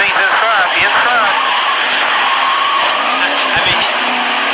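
NASCAR stock cars at the All-Star Race screeching and skidding through a multi-car wreck, loud sustained tire squeal and engine roar with brief impacts, under an excited commentator's voice.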